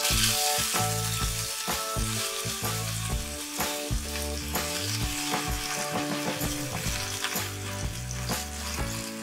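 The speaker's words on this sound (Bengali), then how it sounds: "এবার এর মধ্যে কাঁচকলাটা দিয়ে দেব, আর কাঁচকলা ভাজাটা আমরা মিডিয়াম ফ্লেমে করব।" Raw banana pieces fry over a medium flame in hot mustard oil, giving a steady, dense sizzle throughout with occasional clinks and stirring sounds of a utensil against the pan.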